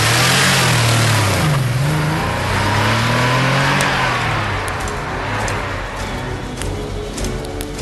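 A car engine roars and revs hard as the vehicle pulls away in a hurried escape, loud and close, with pitch rising and dipping through several throttle changes.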